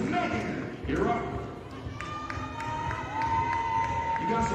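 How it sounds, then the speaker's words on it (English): A crowd at a college men's basketball game cheers and shouts in a gym, a loud, sustained roar that rises and falls while an announcer speaks over it. "Ladies and gentlemen, cheer them on as they take the hardcore shot right now."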